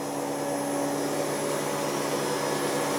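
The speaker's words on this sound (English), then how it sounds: "So we might have one fully working, very loud because there's no panels on it. Fully working Hoover Optima." A Hoover Optima OPH714D vacuum cleaner running with its panels removed, giving a loud, steady motor roar with a high whine that holds unchanged throughout.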